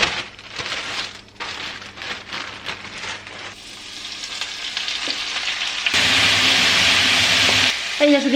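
Chard stalks sizzle and spit in a hot pan on the stove, a steady close frying hiss that grows louder and denser partway through before easing slightly near the end.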